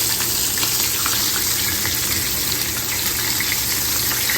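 Battered food fries in a pan with a steady, loud, close sizzle and crackle that holds throughout.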